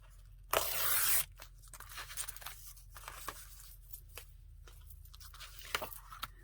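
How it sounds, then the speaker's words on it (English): Paper torn for a homemade junk journal: one loud, broad ripping burst lasting under a second near the start, followed by quieter crinkles, small paper rustles and handling noises. "So let's tear this one as well."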